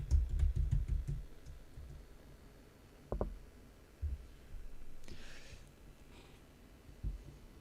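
Keys clatter on a computer keyboard during an EverQuest gaming session: a quick burst of faint, close clicks at first, then sparse scattered taps with quiet gaps and no talking.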